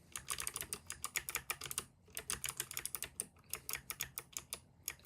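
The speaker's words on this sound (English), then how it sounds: "So actually I'm typing here." Rapid keystrokes clatter on a computer keyboard in quick bursts with brief pauses, close and crisp, no voices.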